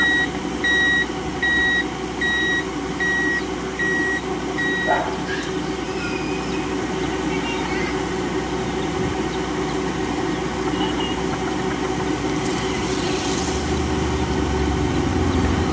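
Lovol 108 combine harvester engine droning steadily and loud while unloading grain in a field, with intermittent reversing-style beeps early on and a faint voice at times.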